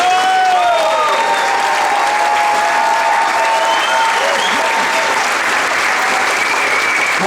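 An audience applauds and cheers at a Þorrablót winter festival in Svarfaðardalur, a dense, loud, sustained wash of clapping with whoops and whistles throughout.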